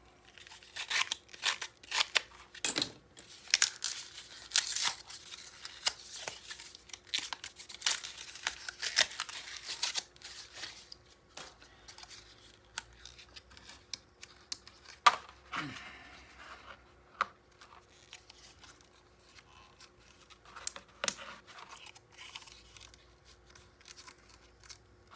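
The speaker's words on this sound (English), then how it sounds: "I got to get into a new pack here" Crinkling plastic packaging and snips from scissors as a new pack of craft supplies for a coral reef mini album is opened, with sharp rustles and cuts close up throughout, heavier at first and then sparser.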